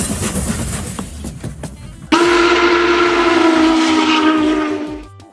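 A train passes with a rumbling, clattering roll, then a loud, sustained steam-style whistle blast cuts in and holds for about three seconds before fading, close and alone.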